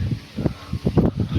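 Gusty wind sways the trees outdoors near farm fields as rain clouds gather, arriving in uneven low rumbling buffets against the microphone, close and fairly loud, with no voices.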